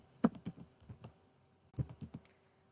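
Typing an email address on a computer keyboard: two clusters of crisp key clicks, each opening with a louder tap followed by lighter presses, then a brief pause between the clusters, close and quiet.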